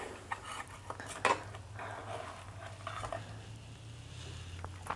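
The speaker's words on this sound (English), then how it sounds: "I'm just going to run a knife around the edges, and they should just come out." A knife runs around the edges of a baking tin holding mini meatloaves, giving faint metallic scrapes and light clinks, with one sharper tap near the start, soft and close against quiet room noise.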